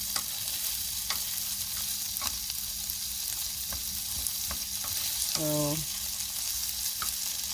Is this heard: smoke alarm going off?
no